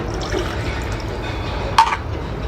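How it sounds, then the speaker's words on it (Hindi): Dirty water being changed and poured into a container at home, a continuous splashing, trickling pour with a brief louder splash near the end. "पानी भी चेंज करना है ना, गंदा हो रहा है।"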